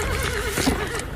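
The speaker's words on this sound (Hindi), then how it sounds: "और जो घोड़ा है वो यहां पे दौड़ेगा।" A horse whinnies in a wavering, drawn-out call over a busy outdoor background at a stunt setting, with a faint thud of hooves mixed in.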